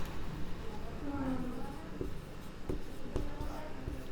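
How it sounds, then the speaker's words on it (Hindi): Chalk marks on a board in a chemistry lesson, a few brief taps and scrapes near the end under a teacher's steady talking and light room noise. "एक सेकंड, पहले हम इसको सही लिख देते हैं।"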